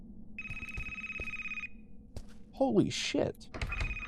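Phone ringing in the horror video game Speechless - Genesis Of Fear: a steady electronic ring tone for about a second, a second short burst near the end, with thuds and an exclaiming voice in between.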